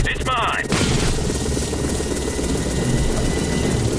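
Enemy drones flying in the video game The Bureau: XCOM Declassified, a steady whirring engine drone under a brief burst of game voice and effects at the start, continuing loud and constant afterward.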